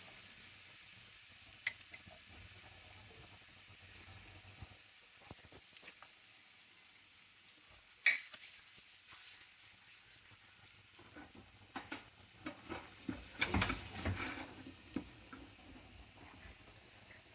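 Beaten egg mixture frying in hot oil in a kadai for a foam egg recipe, a steady soft sizzle with occasional crackles and a few louder pops and stirring scrapes, no voices.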